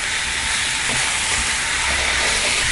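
Capsicum chicken stir-fries in a pan with oil, giving a loud, steady, continuous sizzle and hiss with no talking.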